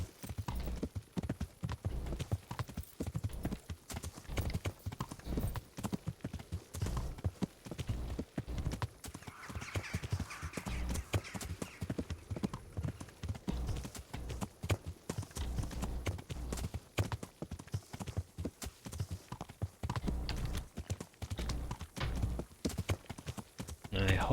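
Steady horse hooves clip-clopping throughout while riding in the medieval game Kingdom Come: Deliverance, a close, continuous rhythmic trot with an occasional whinny, and a voice talking over it at times.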